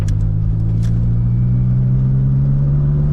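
A Honda Civic EJ1 cruising along rural North Carolina back roads with the window halfway down, its steady low engine drone and road rumble continuous and close, with faint wind and a couple of light ticks on top.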